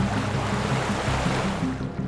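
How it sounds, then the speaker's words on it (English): Continuous rushing and churning water of the Nile cataract rapids among rocks, a steady broad roar with low surging swells, with no talk. "the rocks and rapids of the Nile cataracts made the river unnavigable along great stretches"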